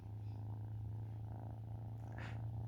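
A cat purring close by in a steady, continuous low rumble that holds for a few seconds, with no talk over it.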